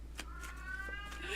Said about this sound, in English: At least she waited till 9 o'clock to start her meowing.